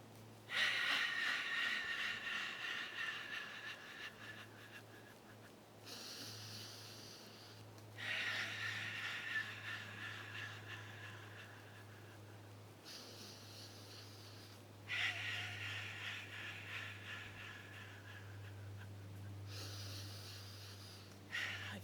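During qi gong practice with arms raised overhead while shaking, slow breaths alternate between long airy inhales and exhales, close and soft over a low steady hum.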